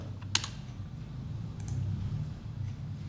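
Keys on a computer keyboard clatter as someone logs in to the GST portal, a few quick close clicks followed by a burst of light taps over a low room hum.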